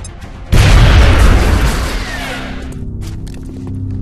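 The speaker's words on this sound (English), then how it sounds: "Throwing grenade!" A grenade explodes in the video game XCOM Enemy Within, a sudden loud boom that hits hard and then rumbles away over several seconds, with no talk.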